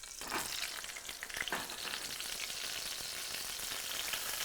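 Food frying in hot oil, a dense continuous crackling sizzle, even and close with no voices over it.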